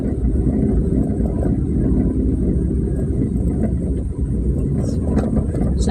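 A car rolls over a very rough road somewhere around Zamboanga City in the Philippines, making a steady, close, low rumble with dense road noise that carries on without a break and no talking.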